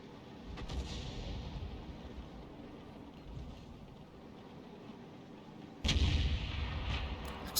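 Heavy artillery booms in a tank video game: a distant rumbling shot early on, then a louder, closer blast near the end, over a steady low hiss.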